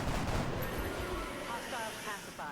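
Gunfire in the PC strategy game XCOM with the Long War mod: a dense burst of shots crackles at close range and stays loud before fading into a rolling rumble.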